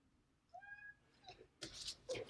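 A pet cat meows a few times indoors, thin rising-and-falling cries near the start and again near the end, fairly close, with a brief louder rustling burst in between and no one speaking.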